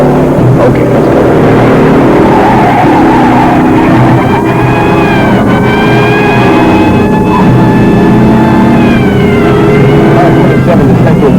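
A car speeding in a police pursuit along the Embarcadero in a 1972 film, a loud continuous engine roar with a rising siren-like whine riding on top, close and unbroken.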